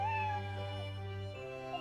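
A cat named Eve gives a clear, drawn-out meow in the Professor Layton vs. Phoenix Wright video game, heard alone over a soft sustained musical background.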